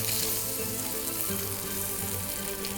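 A salmon fillet fries in a hot pan, cooking toward medium rare, with a loud, dense, continuous sizzle and crackle throughout.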